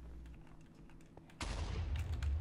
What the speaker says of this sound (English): Lots of explosions happening.